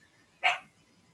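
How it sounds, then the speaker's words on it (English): A single short, sharp bark from a dog indoors at a moderate distance, standing alone against quiet room tone. "Those are my dogs."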